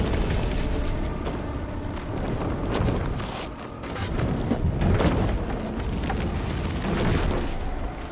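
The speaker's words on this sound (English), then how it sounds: "he still proceeds to destroy the desk." A desk is smashed apart in the video game Little Nightmares 3, giving a loud, sustained stretch of rumbling booms, cracks and crashing debris that keeps going for several seconds.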